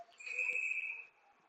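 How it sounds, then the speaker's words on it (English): At a high school ice hockey game, a referee blows one sustained, shrill whistle for icing, clear and fairly close, and it lasts about a second before fading into rink ambience. "so we're going to get a whistle"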